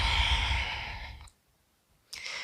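A soft, drawn-out exhale during a yoga flow, breathy and close, fading to near silence before a second breath starts.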